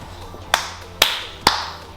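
Three sharp hand claps spaced about half a second apart in a quiet room at the start of filming, close and crisp with short ringing tails.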